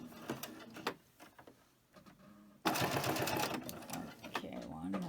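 Double-needle sewing machine stitching fabric in short bursts, then running steadily for a longer loud stretch, close up with some handling noise between runs.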